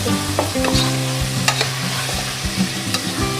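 Adobong puti simmering in its own rendered fat and beginning to char, giving a steady close sizzle and frying crackle with occasional stirring scrapes, no voices.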